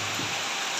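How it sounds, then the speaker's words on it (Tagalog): Heavy rain pouring down at a construction site, a dense, steady hiss with no letup, loud and close. "malakas yung ulan"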